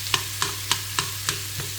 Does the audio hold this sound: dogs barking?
no